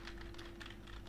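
Close, quick clatter of keys on a computer keyboard as C++ code is typed, a rapid uneven patter of clicks with no voice.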